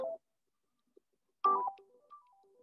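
A phone's ringtone sounds as short melodic electronic tones at a distance, with a brief burst, a pause and then a longer run of notes fading away in an otherwise silent room.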